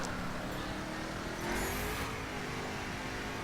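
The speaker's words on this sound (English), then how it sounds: "Bit of wheel spin" Mercedes SLR McLaren 722 in The Crew racing game spinning its wheels, a steady engine drone with a brief rise in revs midway, heard alone and fairly faint.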